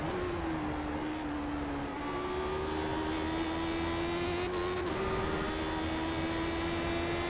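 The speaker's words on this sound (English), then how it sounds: "And we go from fourth to second in one downshift." A Lotus 79 race car engine in iRacing holds a steady, close drone, with a short gear-change dip early on before the pitch climbs gradually again, a continuous tone with no talking.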